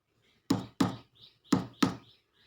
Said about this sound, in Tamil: நம்ம வீட்டு கதவு யாரோ தட்டுற மாதிரி தெரியுது